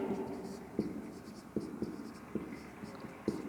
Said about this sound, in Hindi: मैं यहाँ लिखती हूँ